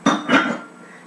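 Bowls with leftover oatmeal set down into a clean kitchen sink, two quick ceramic clinks close together followed by a brief fading ring, near and fairly loud.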